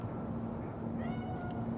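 A cat meows faintly in Cyberpunk 2077, a short thin cry rising over a steady low hum of game ambience, with no talking.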